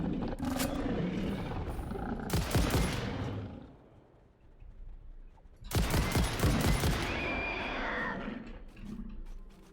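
Bursts of rapid gunfire in the factory-building game Satisfactory, two loud dense volleys separated by a quieter lull with fainter scattered shots and creature-like growls in the background.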